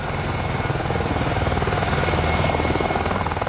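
A Longbow Apache attack helicopter drones loudly and continuously, its rotor thumping in a fast, even pulse over a steady engine whine, with no voices.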